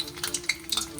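Dough dumplings for vegan rojak frying in hot oil crackle and sizzle with bursts of bubbling and small pops, close and fairly quiet.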